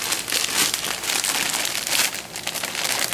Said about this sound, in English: Again, we're taking out the magic knife, we're cutting it.